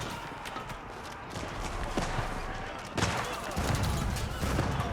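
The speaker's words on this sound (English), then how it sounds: "Archers firing away." Archers fire volleys in an Age of Empires IV battle, producing dense, continuous clattering and rapid impact sounds over a busy layer of combat noise, with no letup for the whole stretch.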